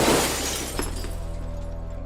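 Office glass shatters from a thrown grenade: a loud burst of breaking glass at the start, then a second crack and a tinkling decay under a steady low rhythmic pulse.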